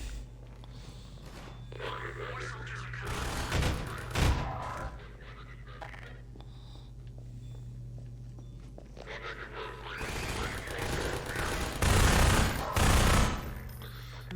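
Pulse rifle fire in Half-Life 2 comes in short, heavy bursts at intervals over a low droning ambience, with scattered impacts and movement between volleys.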